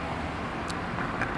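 A car rolls past on a nearby road, a steady broadband hiss of tyres and engine that fills the whole moment, with no talking.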